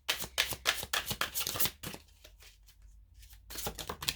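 Tarot cards are riffled and shuffled in bursts of crisp papery flicks, close to the ear. After a quieter stretch of soft handling, a card is drawn and the shuffling starts again, with no talk.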